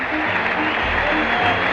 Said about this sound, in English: The crowd is still standing and applauding Tom Seaver as Tom throws in his warm-ups.